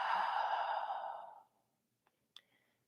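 A long, audible sigh-like exhale during a yoga flow for runners, loud and close at first and fading out over about a second and a half, followed by silence and a couple of tiny clicks.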